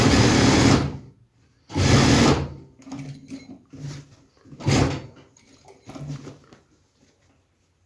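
A sewing machine stitches men's trousers in short bursts, running loud for about a second at a time between quiet pauses and lighter handling noises.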